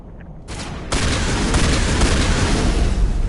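Shotgun fire in the video game Mass Effect, a loud burst of booming shots layered over dense ongoing gunfire and combat noise, each blast hitting hard and near.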